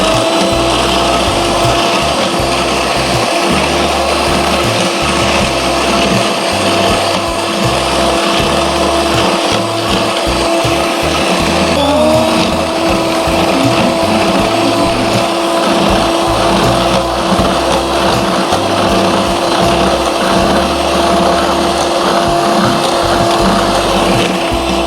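An electric mixer whips a cream mixture with sugar for a stovetop pan cake, a steady loud motor whine with rattling beaters, its pitch shifting briefly midway then continuing unbroken to the end.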